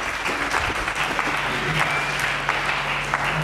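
Church congregation applauding together, steady dense clapping at a constant level throughout, with a low sustained tone underneath.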